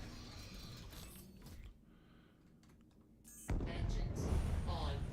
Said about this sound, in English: Engines on. Launch complete.